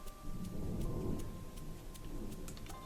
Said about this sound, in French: Il y a de l'orage.